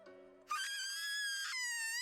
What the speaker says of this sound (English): What a scream!